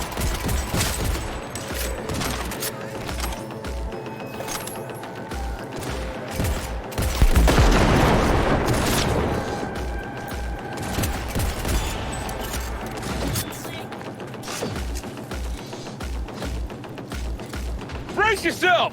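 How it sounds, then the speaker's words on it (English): Enemy gunfire in Cyberpunk 2077 on the Switch 2: dense bursts of shots and thumping impacts run throughout, with a heavier barrage in the middle, loud and close, while a player talks over the action. "Who's shooting me from there?"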